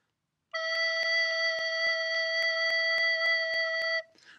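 A recorder holds a steady low E note in a tutorial on fingering, a pure sustained tone of about three and a half seconds with faint regular clicks throughout, alone and close, then stopping abruptly.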